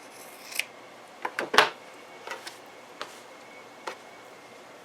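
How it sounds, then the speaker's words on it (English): Scissors snipping away excess 100% cotton fabric while making a bowl cozy: a handful of sharp, separate close-up cuts with quiet pauses between them, alone without talk. "So we're cutting off our excess fabric."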